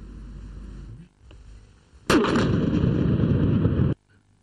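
Obsolete missiles and munitions are blown up in a controlled destruction: after a quiet stretch with a faint click, a sudden loud detonation bursts out and rumbles heavily for about two seconds before cutting off.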